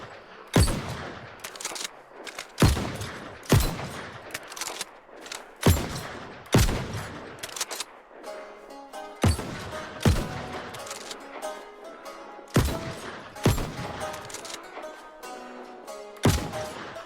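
Blunderbuss shots in the video game New World, a series of sharp, loud booming blasts spaced about a second apart, each with a short ringing decay, separated by quieter gaps.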